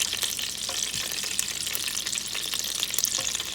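Meatballs sizzle and fry steadily in a pot as they brown, a dense continuous crackle close up, with faint stirring and no voices.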